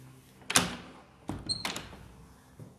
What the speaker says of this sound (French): donc je vais fermer la porte